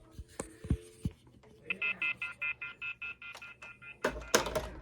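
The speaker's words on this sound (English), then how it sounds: "And it went to receiver off hook because I took too long." An off-hook warning tone sounds from an old household telephone, a loud, rapid pulsing beep repeated about a dozen times at a steady rhythm, with handset clicks and clunks before and after.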